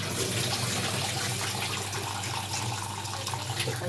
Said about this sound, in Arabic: وهنا بقى طبعا بغسل الرز.